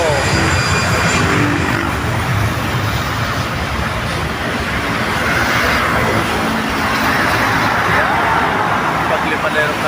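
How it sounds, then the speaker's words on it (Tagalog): A plane roars along a sunny, long runway on its takeoff run, a steady broad engine rush mixed with road-like rumble that holds loud and constant, with faint voices now and then. "Paglipad na aeroplano"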